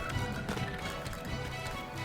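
A horse in The Legend of Zelda: Breath of the Wild gallops with quick, continuous hoofbeats under a dense layer of game music and ambient sound.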